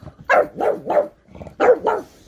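A puppy barks in short sharp bursts, three quick yaps, a pause, then two more, close by and loud with no talk over them.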